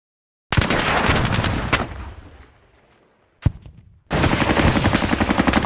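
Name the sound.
gunfire in the video game Squad Battles Eagles Strike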